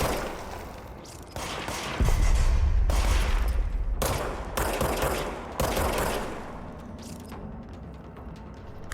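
Bursts of automatic gunfire from the video game Control crack out in repeated volleys, loud and sustained with short gaps between them.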